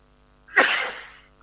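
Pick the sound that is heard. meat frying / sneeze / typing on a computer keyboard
sneeze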